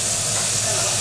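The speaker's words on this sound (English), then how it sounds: "Put some lemon juice in. And then it'll steam up" Lemon juice hitting a hot pan to deglaze it, giving a loud, steady, broadband hiss of steam that fills the moment without pause.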